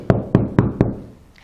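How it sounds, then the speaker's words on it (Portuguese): Four sharp knocks on a door at a steady, evenly spaced rhythm, close and fairly loud, with no voices over them. "bateu na porta"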